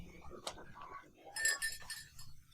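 Glasses clink together in a toast, a sharp ring early on and then a brighter cluster of several overlapping chimes partway through, heard close over quiet background and soft voices.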